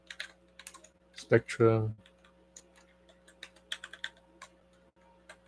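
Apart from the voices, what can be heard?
typing on a computer keyboard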